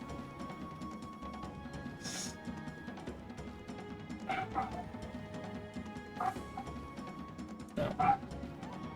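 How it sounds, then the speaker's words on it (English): A pet dog barks a few times in the background, short sharp yelps spaced a couple of seconds apart, faint and somewhat distant beneath a steady low hum. "My dog is barking."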